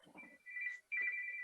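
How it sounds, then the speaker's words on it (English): A telephone rings in two bursts of steady electronic trilling separated by a short gap, fairly quiet and close, following brief muffled sounds at the start. "Sorry about the phone."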